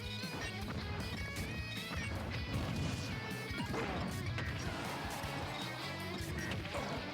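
A dash attack hit in Super Smash Bros, a Mii Brawler versus Mr. Game & Watch tournament match, lands as sharp smacking impacts over dense, continuous game music and effects, with commentary in the background.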